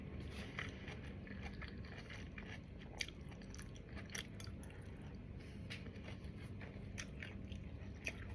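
Close, crisp crunching of garlic being bitten and chewed, a steady run of wet crackles and snaps with small sharp bites throughout, no talking.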